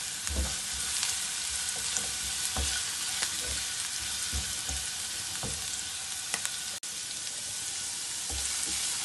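Onions and garlic fry in a pan with a steady, bright sizzle and crackle, punctuated by occasional soft stirring knocks, close and continuous with no talk.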